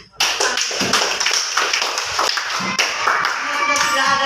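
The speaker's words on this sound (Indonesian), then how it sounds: "ibu memberikan aplaus untuk kalian" A teacher and students give applause, a dense run of hand clapping that is close and fairly loud, lasting the whole stretch, with no talk over it.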